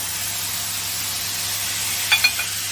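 Butter melts into a hot pan with lime juice, giving a steady close hiss of sizzling throughout, with a couple of small clinks near the end.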